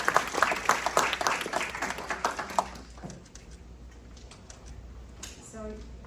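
Audience applause greets a speaker walking onto the stage at a UN General Assembly side event, a dense wash of clapping that is loud at first, then thins and fades over several seconds.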